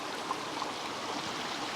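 Stream flowing through Coachwood Glen in the Megalong Valley, a steady, close rush of water with an even, unbroken hiss and no voices.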